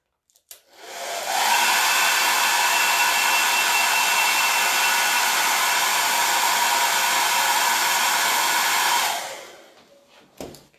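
A hand-held hair dryer blowing on a door tag transfer, switching on with a click and running as a loud, steady whooshing roar for about eight seconds before winding down and clicking off.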